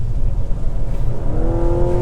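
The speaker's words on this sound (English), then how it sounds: "that's not a bad sound either. As far as naturally aspirated 4-cylinder engines go, that's one of the nicer sounding ones" A 2024 Mazda CX-90 plug-in hybrid accelerates, its naturally aspirated four-cylinder giving a steady, close engine drone that climbs in pitch toward the end, with no voices.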